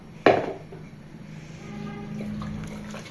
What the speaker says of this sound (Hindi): तो अब लास्ट में मैं डाल रही हूँ इसमें चावल।